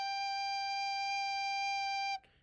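A recorder plays a single sustained G note, clear and steady for about two seconds with no accompaniment, then stops abruptly.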